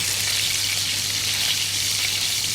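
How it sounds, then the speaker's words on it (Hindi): Chicken burger patties fry in hot oil, giving a dense, steady sizzle and crackle close by with no pauses, over a faint low hum. "चिकन बर्गर पैटी जो हैं वो यहाँ फ्राई हो रहे हैं"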